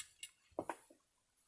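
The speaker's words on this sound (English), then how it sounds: "Smattering of screws falling on the ground." A few screws dropping onto the ground while a cheap eBay light fitting is torn down: a quick scatter of small metallic clinks and ticks, close and faint, with no talk.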